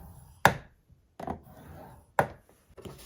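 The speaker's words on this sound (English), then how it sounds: "we're gonna score it at 1/2 inch" Paper being scored on a scoring board at the half-inch mark, heard as a few sharp, close taps and scrapes spaced apart with quiet gaps between them.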